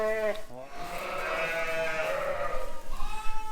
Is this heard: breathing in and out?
no